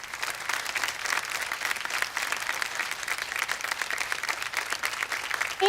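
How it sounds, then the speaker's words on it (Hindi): An audience applauds to welcome a guest at an event in a TV drama, a sustained wash of many hands clapping at moderate distance with no voices over it. "तो मिनोली जी का यहाँ पे हम तालियों के साथ में स्वागत करना चाहते हैं।"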